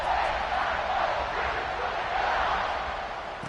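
A stadium crowd at a college football game between Indiana and Ohio State roars in a dense, sustained wash of cheering, loud and continuous throughout.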